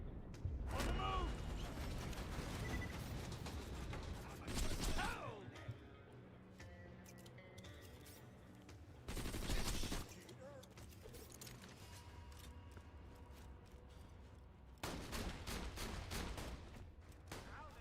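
Shotgun blasts from Half-Life gameplay, several loud broadband bursts spaced a few seconds apart amid busy game noise and creaks, with a person talking over parts of it.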